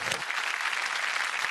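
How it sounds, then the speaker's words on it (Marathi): Studio audience on a Marathi TV game show claps in a loud, dense burst of applause that stays steady throughout. "जोरदार टाळ्या तुमच्यासाठी"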